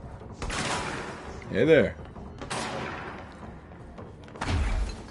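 Loud shotgun blasts in the video game Control, several heavy booming bursts spaced a second or two apart, with a brief spoken greeting between shots.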